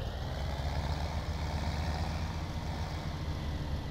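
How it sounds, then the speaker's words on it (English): A tractor engine in Farming Simulator 17 idles with a steady low rumble, even and unbroken, moderately quiet and close, with no voices over it. "Just park this tractor right here."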